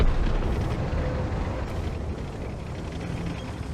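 Tank gun firing and exploding in World of Tanks, a deep, rumbling blast that fades into a long, loud low roar with no speech.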